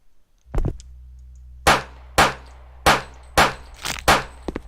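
Gunshots striking metal in a Unity first-person shooter, five sharp evenly spaced bangs with metallic ring, preceded by a quick double shot, loud against a low steady hum.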